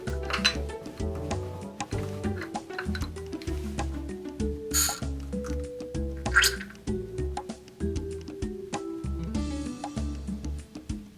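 CBD isolate liquid pushed from a syringe into a standard 510 vape cartridge, close-up small drips, squishes and faint glassy clinks in an irregular rhythm, quiet and without talk.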